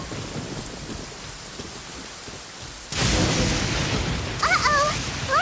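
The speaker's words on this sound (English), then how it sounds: "Uh-oh! Lightning storm!" Lightning storm in Genshin Impact, with a soft rain hiss that suddenly swells into a loud, dense roar of downpour and rumble, then a few shrill chirps over the steady storm.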